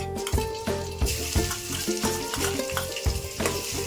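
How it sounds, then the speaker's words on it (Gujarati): Garlic and ginger frying in a pan, a continuous sizzle broken by rhythmic stirring scrapes, close and moderately loud, with no talk and a faint tonal background. "હાલો હવે આપણે લસણ નાખી દઈએ. આદુ લસણ."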